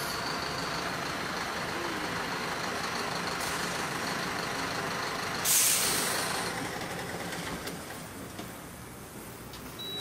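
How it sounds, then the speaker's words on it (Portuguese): A city bus rumbles as it pulls up to the curb, with a sharp hiss of air brakes releasing midway before the engine noise settles to a lower idle. "O ônibus encostando"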